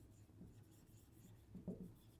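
Quiet, steady scratching of a pen writing out multiples of 5 for a Class 11 sets exercise, soft and close with a slightly louder burst of strokes near the end.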